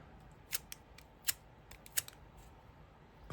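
Scotch tape being pulled and handled while cleaning nail-art stamper heads, a few sharp, brief crackling rips and clicks spaced about a second apart over a quiet background.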